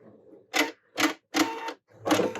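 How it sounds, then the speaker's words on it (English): A Husqvarna Viking Epic 95Q sewing machine lock-stitches and then cuts its thread, heard as four short mechanical whirring bursts with brief pauses between them, close and clear, with no voices. "it is going to always lock stitch for us before it cuts"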